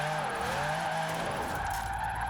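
In Forza Horizon 4, a tuned drift car slides sideways with a steady tire skid and a droning engine, close and loud throughout the short stretch with no one talking.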